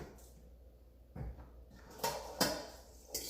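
Battered cauliflower florets coated in Caesar dressing are tossed in a bowl, producing a few irregular clattering knocks and scrapes against the bowl between quiet pauses.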